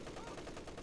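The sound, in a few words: MG42 machine gun firing in video game Spearhead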